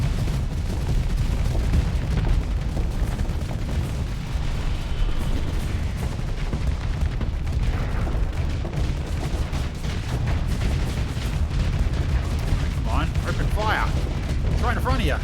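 Ship weapons in the Starsector space game fire in a dense, continuous barrage of booming blasts and rumbling impacts, with a few sharper bursts near the end, and a voice talks intermittently over the din.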